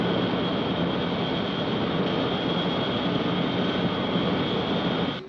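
Steady, loud, unbroken roar of an aircraft in flight, dense broadband drone with a constant high whine, heard from inside and continuing without pause until a brief drop at the very end.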